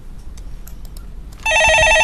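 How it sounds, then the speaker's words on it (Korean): A telephone starts ringing partway through, a loud sustained electronic ring that comes in abruptly after a quiet stretch with faint background sounds. "예, 전화 받아보겠습니다."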